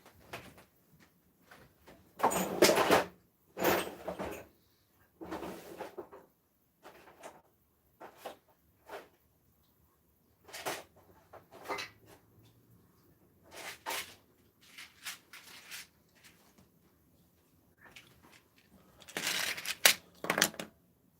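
A workshop drawer is opened and rummaged through, giving scattered bursts of rattling, sliding and clinking with quiet gaps between them, close by and with no talk.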